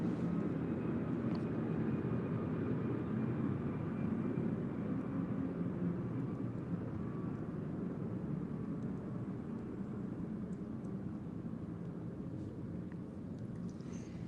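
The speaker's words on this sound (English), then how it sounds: "a plane is coming by" An airplane passing overhead outdoors, a continuous low engine rumble that holds steady and fairly loud throughout, slowly easing slightly toward the end, with no voices over it.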